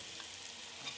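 A fish head fries in hot oil with a dense, continuous sizzle and crackle, close and steady throughout, with no talking.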